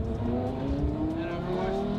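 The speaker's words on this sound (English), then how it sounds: "this one definitely is much more satisfying to drive because of the custom exhaust." A Porsche Carrera GT with a custom exhaust, its engine note climbing steadily in pitch as it accelerates, loud and close, with no talk.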